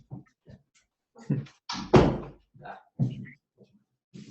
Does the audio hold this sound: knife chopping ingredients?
no